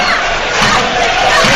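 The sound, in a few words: home football crowd reacting, Latvia vs Wales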